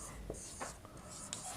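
Numbers being written on a classroom board during a maths lesson on estimating sums to the nearest thousand: faint, sparse strokes and taps, a few short scratches spaced apart over a quiet room background.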